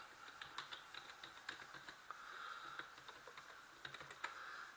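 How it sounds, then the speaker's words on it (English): A password typed on a computer keyboard: a quick, steady patter of close, soft key presses over light background hiss, with no voices. "So you can type in a password that you want to use"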